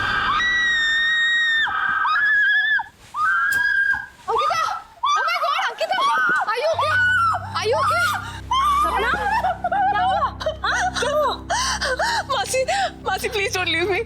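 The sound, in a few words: girl screaming in fright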